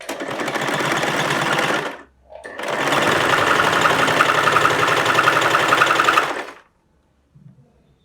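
A sewing machine hems an apron made from an old kurti in two loud, fast bursts of stitching, a brief pause between them, then it stops and the room goes quiet.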